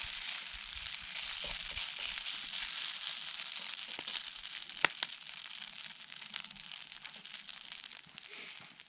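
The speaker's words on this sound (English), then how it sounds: "All right, hash browns are going to the edge. Sausage is going in the middle." Hash browns and sausage frying in a small camp setup during UTV overlanding, a continuous close crackling sizzle with occasional sharper pops, steady and alone with no talk.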